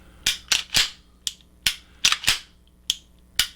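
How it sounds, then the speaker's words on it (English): Sharp, close metallic clacks from an Archon Type B pistol's slide being racked and released during a function check, about a dozen crisp snaps in irregular quick succession with no talking. "It has a nice, very solid sound to the slide action."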